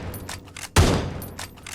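A single sharp gunshot from a Winchester lever-action rifle in PUBG Mobile, a loud crack with a short decaying tail, surrounded by faint clicking and handling noises before and after.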